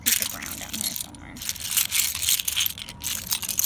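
Seashells and sea glass gathered on a Sanibel beach rattle and clink as they are handled up close, a busy run of small crunching clicks with short pauses.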